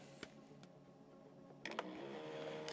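A compact Elite Pocket S7 tattoo stencil printer draws in a sheet of paper: faint scattered ticks, then a short burst of mechanical clicks followed by a steady, quiet whirring feed.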